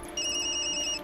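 A ringtone chirps on a phone in the video game Tokyo Dark, a clear electronic trill that repeats steadily for about a second over a low, quiet background hum.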